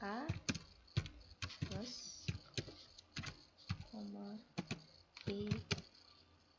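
Clicky computer keyboard keys tapped in quick irregular bursts while someone types Python code, close and crisp, with a person speaking over the typing.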